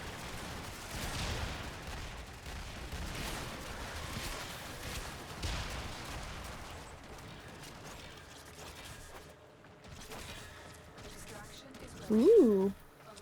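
In Warframe, rapid gunfire from the Azima sounds through the opening seconds under a busy game mix, then fades as a bright warbling tone rises near the end.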